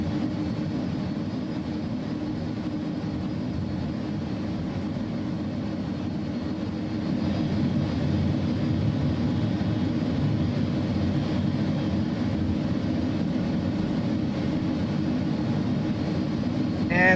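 Airbus A300 engines idling in a flight simulator game, a steady low droning rumble that holds even and slightly swells partway through, with no pauses or talk.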